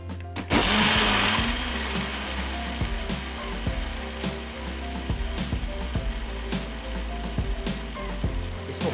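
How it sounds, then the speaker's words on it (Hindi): A juicer blender grinds warm soft pear, onion and mushroom, a loud continuous motor whir starting abruptly and running steadily, with repeated knocks and rattles as the contents churn. "अब इस तमाम जो मटेरियल है इसको गरम गरम हम शामिल कर देंगे जूसर ब्लेंडर में"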